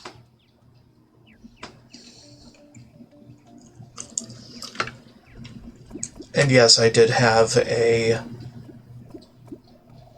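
Water gushes and splashes loudly for about two seconds in the Terraria video game after a water tank accident, with someone talking before and after the burst.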